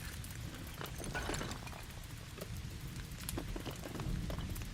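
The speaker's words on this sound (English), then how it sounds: "there's still a bunch of rain and shit happening" Steady rain in a horror film scene, a continuous dense patter with scattered sharper splashes and drips, fairly even in level throughout with no voices.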